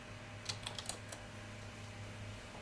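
Quick bursts of typing on a computer keyboard, several light clacks in a fast cluster and then a single tap, close and soft over a low background hum.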